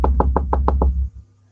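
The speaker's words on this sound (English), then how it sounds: "knock, knock." Six quick, evenly spaced knocks on a door, close and loud, followed by a low steady hum.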